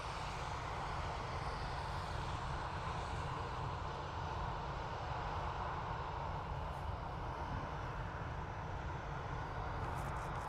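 A 20-year-old aircraft at Dublin Airport on a freezing day, its engine giving a steady, broad roar that holds loud and unbroken throughout, with no voices over it.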